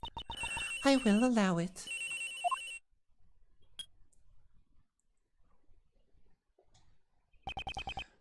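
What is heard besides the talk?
telephone ringing in the video game Ace Attorney Investigations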